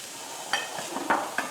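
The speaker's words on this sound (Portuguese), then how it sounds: "Colocando a cebola para fritar, sem azeite, viu gente?" Onion fries dry in a very hot pan with no oil, giving a steady soft hiss broken by a few light clinks and scrapes of a utensil.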